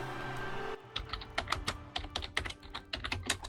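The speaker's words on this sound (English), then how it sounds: "Typing?" Quiet computer keyboard typing, a brief burst of close, crisp keystrokes in an uneven rhythm following a moment of low background hum, with no voices.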